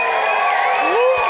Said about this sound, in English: If you are team colored lights, I wanna hear on the count of 3, I wanna hear your cheer if you're team colored lights